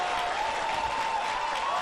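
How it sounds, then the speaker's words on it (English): Canberra crowd at a women's A-League football match between Canberra United and Western Sydney Wanderers, clapping in a steady, dense wash of applause that holds at even loudness throughout. "They give her quite the round of applause for that battle."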